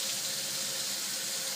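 Ethyl acetate solution pours steadily into a filter funnel in a lab, a close, continuous splashing stream with no talk.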